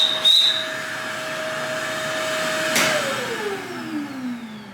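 A Shark Rotator powered canister vacuum runs with its hose taken off, giving a steady close motor whine that shifts pitch and winds down toward the end, with no talking.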